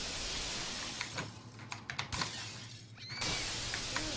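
Glass shatters from gunshots in the Payday 2 video game: a few sharp, brittle crashes and tinkling fragments scattered over a quiet background, one breaking burst louder near the end.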